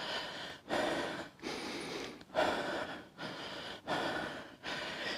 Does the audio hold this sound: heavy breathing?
yes